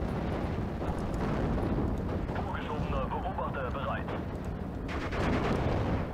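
Constant rumbling artillery bombardment in the WWII strategy game Steel Division: Normandy 44, a dense wash of booms and blasts running the whole stretch, with someone talking over it.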